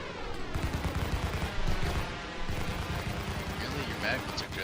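Rapid, dense gunfire from Omni repeater ship guns on an F7A fighter in the space game Star Citizen, a loud continuous rattling burst that carries on for several seconds with only brief dips.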